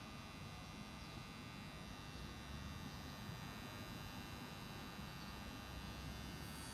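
A lip tattoo machine runs with a steady, continuous electric hum and buzz, close and quiet, with no talking.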